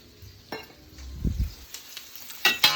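Onions sizzling in a hot wok while cooking Thai drunken noodles: a brief crackle and hiss with a couple of stirring scrapes and clinks, close and moderately loud, no talking.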